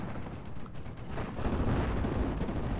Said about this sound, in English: AT gun. Prepped and ready to go. Do they have sight lines? Yes, they do. Open fire on those Pumas.